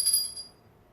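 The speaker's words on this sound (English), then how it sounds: "then you know what that bell means" A single bright bell rings once, close and clear, then fades quickly into silence.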